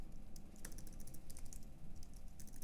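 Typing on a computer keyboard, quick soft clicks in irregular bursts close by over a low hum, with no one talking.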